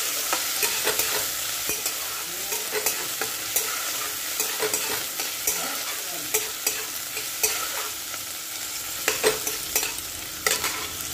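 Chopped onion and green chillies sizzle and fry in hot mustard oil in a wok, a steady close crackle broken by repeated sharp stirring scrapes, with no talking.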